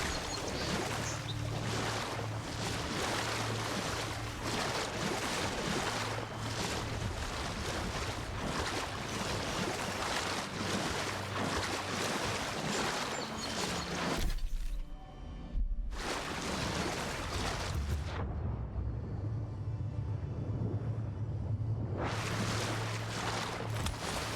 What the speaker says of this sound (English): A waterfall over there.